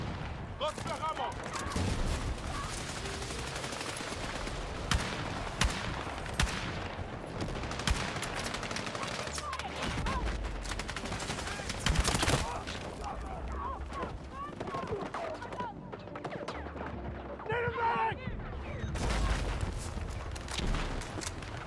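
Gunfire in a first-person shooter video game crackles in repeated bursts and scattered single shots across a long stretch, moderately loud among other game noises, with occasional voices underneath.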